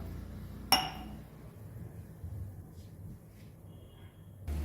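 A single glass or cup clinks once sharply in a quiet home kitchen where a Goan drumstick curry simmers, followed by low background hum and faint rustling.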